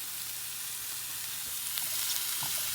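Diced peppers and mushrooms fry in butter in a pan, giving a steady, even sizzling hiss with a few faint clinks as they are stirred.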